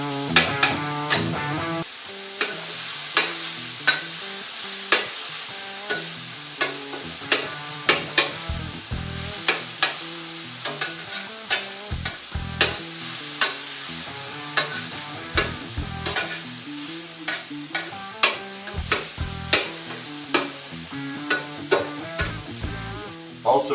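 Onions and peppers sizzle steadily on a Vevor 22-inch 1600W electric flat top griddle, with salt, pepper and garlic going in, while a spatula scrapes and taps in a quick repeating rhythm throughout.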